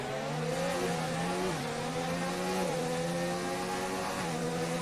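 Formula One-style race cars lapping the Singapore circuit in a sim racing league game, engines holding a loud, continuous high-revving whine whose pitch dips and climbs again several times like gear shifts, with no voices over it.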